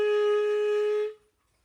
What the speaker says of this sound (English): So high B flat sounds like this.